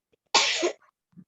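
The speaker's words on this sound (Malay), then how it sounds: "Siapa bersin tu ya?" A single sharp sneeze bursts out close and loud, brief and breathy, followed by a faint murmur.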